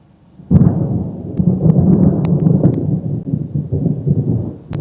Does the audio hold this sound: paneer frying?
no